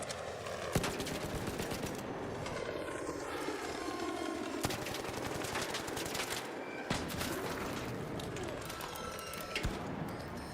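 Rapid video game weapon fire rattles almost nonstop in dense bursts, with sharp louder shots punctuating the chaos and sweeping whooshes and effects layered in, with scattered talk underneath.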